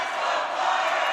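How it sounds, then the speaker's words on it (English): Hockey crowd of Sioux Falls Flyers fans at a boys high school game cheering steadily, a dense sustained roar filling the arena with no break. "And the Flyers faithful cheering them on as they do."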